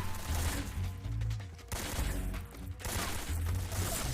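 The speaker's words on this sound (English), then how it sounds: "You're shooting at nothing right now." Bursts of gunfire from the video game Metal Gear Solid 3 sound dense and continuous, crackling with heavy low-end thumps and no pauses.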